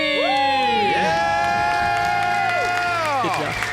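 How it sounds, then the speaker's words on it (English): A small group lets out a long, loud whooping scream and cheer to celebrate becoming debt-free, several voices sliding up and holding together for a few seconds. "Let's hear a debt-free scream."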